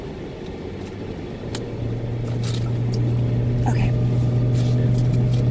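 A car labours up a hill on the road, its engine drone holding a low steady hum that grows slightly louder as it slowly accelerates, with cabin rumble and a brief spoken word over it.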